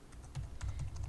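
Quick, light clicks from someone typing code on a computer keyboard come in an uneven rhythm, close and fairly quiet, with no voices.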